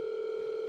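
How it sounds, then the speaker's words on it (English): A steady electronic telephone tone sounds loud and close as a call comes in during a late-night live show, holding one unbroken pitch for the whole moment. "I'm getting another phone call"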